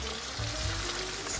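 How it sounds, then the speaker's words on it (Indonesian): Laksa spice paste fries in a pan as a little water goes in, giving a loud, steady, close sizzle with a faint bubbling hiss and no talking. "Nah, kita masukin sedikit air kemari ke dalam tumisan kita"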